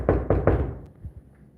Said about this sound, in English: Let me go ahead and knock again.